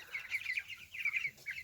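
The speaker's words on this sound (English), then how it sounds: "These guys are about 18 days old. We got them as day-old chicks" Several 18-day-old meat chicks cheep and cluck in soft, rapid bursts of high-pitched peeping, close by with faint farmyard background.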